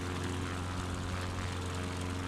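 Propeller plane engine droning at a steady, even pitch inside a flight simulator game, a constant moderate hum with no pauses or voices.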